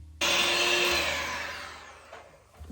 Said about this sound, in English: I'm gonna get out the mixer because I want this smooth.